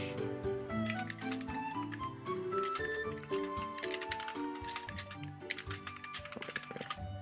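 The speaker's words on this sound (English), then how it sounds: "Because I forgot to type it out first." Keyboard typing while a text message is written out, heard as a quick run of light clicks and taps scattered under steady melodic background music.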